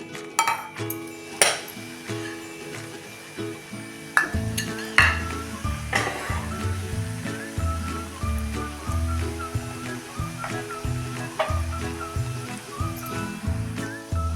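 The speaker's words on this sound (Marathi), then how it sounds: "आता ही दुसरी बॅच पण तळून घेऊया" A second batch of chakli made from chapati dough frying in hot oil, steady bubbling sizzle under repeated clinks and scrapes of a utensil against the pan, close and moderately loud with no voices.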